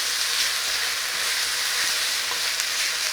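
Beef pepper steak browns in hot oil in a pan, a steady, close, broadband sizzle and crackle that holds evenly for the whole stretch with only small pops and no voices.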